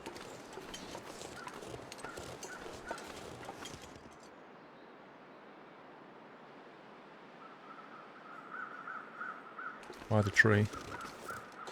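Crows caw in the snowy wilderness of The Long Dark, a few calls rising near the end over a soft wind bed, with a person talking briefly earlier.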